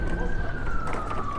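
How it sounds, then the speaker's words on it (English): Ambulance siren wailing steadily through city traffic in Washington, DC, a sustained tone heard from a bicycle amid continuous road noise. "I suspect that ambulance is kind of going the same direction we are"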